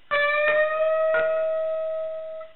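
A single sustained electric guitar note bent up on the 10th fret of the high E string, with clear harmonics, picked a few times and slightly wavering in pitch before fading.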